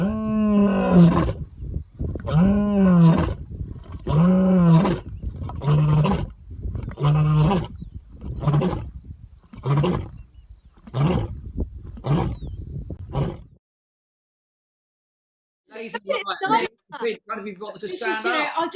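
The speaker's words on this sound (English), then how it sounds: "It's a lion roaring." A lion on safari roars in a long series of deep, heavy grunting calls that rise and then shorten and fade, followed by a pause and a rougher burst of calls, loud and close.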